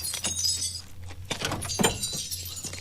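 Sugar glass breaking in the 1991 movie Terminator 2: Judgement Day, with a few sharp crashes and clinks of shattering pieces over a low steady hum and background commotion.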